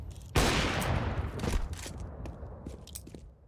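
Gunfire in the video game Crossfire erupts in a sudden loud burst, followed by a rattling trail of further shots and impacts that gradually fade.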